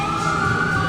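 An ambulance siren going by on a road at night, a steady loud wail from close range that holds level through the short stretch, heard from inside a vehicle with no talk over it.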